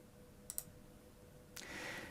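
A computer mouse double-clicks while someone works in ARES Mechanical 2D drafting software: two quick, faint, crisp clicks in close succession, followed by a soft rustling onset and low steady background noise, with no talking.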